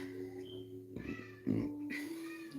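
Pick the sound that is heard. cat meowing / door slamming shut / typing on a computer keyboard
cat meowing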